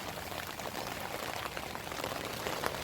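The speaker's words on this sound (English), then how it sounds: "the water's beating up, and it's running along the fly, and it's just kind of following down" Rain water runs and drips along the fly of a Eureka TCOP Combat Tent during a leak test, a steady close-up wash of patter and trickling with no break across the short stretch.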